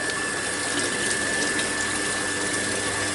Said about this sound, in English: we are draining a little bit portion of the water